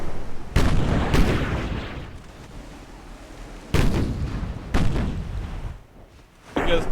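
Heavy naval gunfire from 5.5-inch and 4.5-inch guns in a warship video game, with several loud booming salvos spaced a second or more apart and rumbling tails between them.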